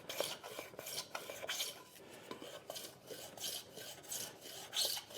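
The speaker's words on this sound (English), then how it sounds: "I'm going to change that and make a chamfer because it looks neater" A hand plane or rasp chamfers the edge of construction wood in a series of quick, rhythmic rasping strokes, close and crisp, about a dozen passes with short pauses between, no talking.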